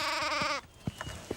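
A single sheep gives one wavering, nasal bleat, close and clear, then a few soft thumps and rustles follow.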